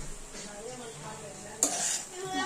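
A spoon stirs sweet potato halwa in a hot pan, scraping and sizzling softly at close range, with a sharp clatter partway through.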